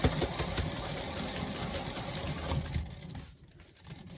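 Motorized paint spinner whirring with an acrylic pour canvas on it, a steady buzzing mechanical drone that holds near and fairly loud before slowing and fading toward the end.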